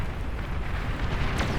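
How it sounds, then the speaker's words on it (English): Nuclear explosions in a large real-time strategy battle: a continuous deep rumbling roar with a crackling, blasting texture and a brief hiss near the end, loud and sustained with no talk. "Another explosion,"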